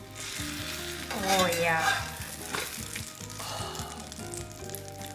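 French toast frying in butter in a pan, a steady loud sizzle with a swell of bubbling crackle partway through, and a brief spoken remark over it.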